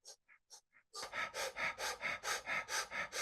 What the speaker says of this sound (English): Let's do a powerful, deep fire breath now